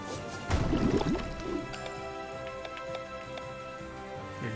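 A Water Thrust water attack effect from the Chained Echoes video game bursts in as a splashing liquid gush, then trails off into dripping, gurgling droplets over a sustained musical backing.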